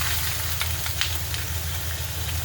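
Washed, drained prawns dropped into a spoonful of hot oil for biryani, giving a steady, close, loud sizzle with a low hum beneath and a few faint clinks.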